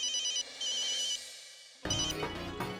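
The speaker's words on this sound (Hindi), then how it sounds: "चेतन भाई को फोन लगाता हूँ, पूछता हूँ कोई है क्या पहचान।" A telephone rings while a call is being placed, with bursts of electronic ringtone tones, a pause, then another ring joined by a music-like sting, close and clear with no talking.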